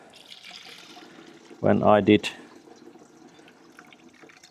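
Water gushes briefly from the drained radiator of a Ford 4000 tractor, a short loud splashing burst of under a second amid quiet background, with someone speaking just before it.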